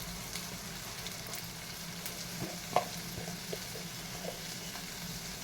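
Spices with onions and ginger-garlic paste frying in oil for a dry fish curry, a faint steady sizzle with occasional soft scraping stirs and clicks.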